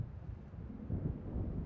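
Low, rumbling thunder of an approaching storm rolls over open sea waves in a video game, faint and distant at first, then swelling a little louder in the second half.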